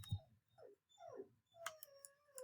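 A dog whimpers to go out, giving a few soft, rising and falling whines, then a sharper, more tonal whine near the end, faint and close in a quiet room.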